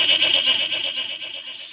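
A goat bleats in a long, wavering, nasal call that fills the clip, loud and close, with a sharper high cry breaking in at the very end.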